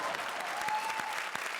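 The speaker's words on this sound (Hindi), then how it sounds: "जोरदार तालियां" A studio audience at a Hindi comedy show claps steadily, a dense, continuous round of applause that holds at an even level throughout.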